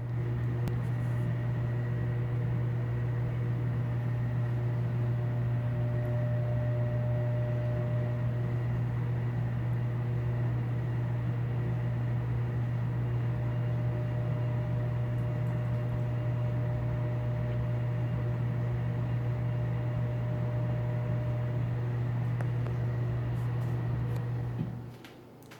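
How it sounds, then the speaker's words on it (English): A 1982 Emerson 24-inch whole house fan runs with a steady, loud motor hum and a broad airy whoosh, unchanging for a long stretch before cutting off abruptly at the end. "Here is the house fan."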